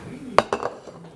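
Plate clinking against other dishes in a home kitchen while pancakes are being served, two or three sharp, close ceramic knocks in quick succession, then quiet.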